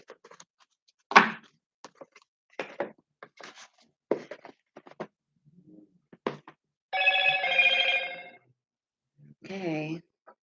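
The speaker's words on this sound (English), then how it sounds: "I don't know why all the notifications decided to come in the moment I start my read." Phone notification tones chime twice amid quiet clicks and handling noises, a sustained ringing tone followed by a shorter warbling alert, with scattered brief knocks and taps.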